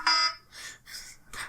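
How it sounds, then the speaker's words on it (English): A timer alarm goes off with repeated electronic beeping bursts, loud and close, each tone pulsing in an even on-off rhythm. "I need to work out how to stop this timer"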